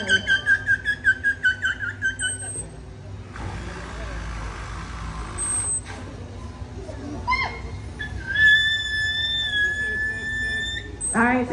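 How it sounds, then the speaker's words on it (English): Orcas Nolani and Katina at a marine park give high whistles and squeals, starting with a rapid pulsed series. Then come sustained tonal calls over crowd and water noise, fairly close and clear. "you're hearing some of those vocalizations from Nolani and Katina"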